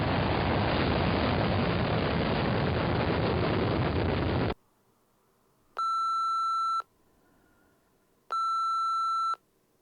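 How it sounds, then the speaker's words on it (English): A Juno 2 rocket launching the Pioneer 4 space probe in 1959: a loud, steady broadband roar for about four and a half seconds cuts off abruptly, followed by two separate electronic beeps. "Pioneer 4 was launched into space by a Juno 2 space rocket."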